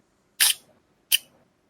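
An old film camera fires its shutter at 1/60 second: a sharp crisp click, then a second smaller click a moment later, close and alone in silence.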